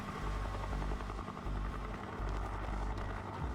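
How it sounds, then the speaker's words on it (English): A helicopter in the video game GoldenEye 007: Reloaded gives off a steady pulsing rotor throb with a low engine drone, loud and continuous and without voices. "Bond, you need to use an RPG to take down that helicopter"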